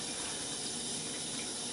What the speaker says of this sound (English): I can hear water in my pipes.